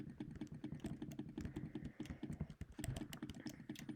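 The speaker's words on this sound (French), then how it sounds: "là on doit cliquer parce que c'est un clicker" Rapid, steady clicking from a mouse or keyboard during a Roblox Clicker Simulator session, dense irregular taps continuing throughout at close range with no voices.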